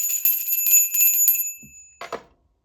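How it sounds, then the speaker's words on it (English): A bell rung to start a timer gives a bright ringing tone with a rapid metallic trill that lasts about a second and a half and then stops, followed by a short rustle before silence. "I'm going to ring the bell."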